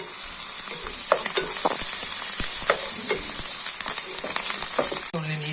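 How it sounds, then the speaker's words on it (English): Ginger and garlic sizzle steadily in hot oil while egg fried rice is cooked, with a continuous close crackle, scattered spits and stirring scrapes, and a sharper clatter near the end. No one speaks. "we just add the ginger and garlic into the oil"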